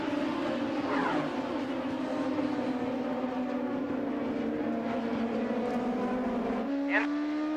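IndyCar race cars at speed on the Watkins Glen road course, a continuous loud engine whine heard on board, with pitch sweeps as the car shifts and other cars roar past nearby.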